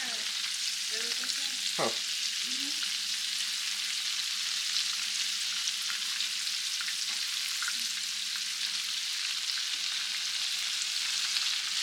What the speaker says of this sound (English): Let them fry for a couple more minutes.